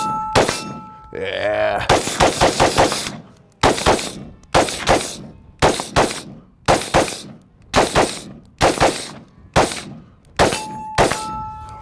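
Rifle shots from a 7.62x39 AK/AR hybrid ring off a steel target, about ten loud sharp cracks in a steady paced string, each followed by a metallic clang, with a brief spoken word near the start.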